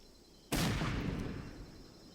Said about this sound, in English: That's a long-range shot there with that grenade.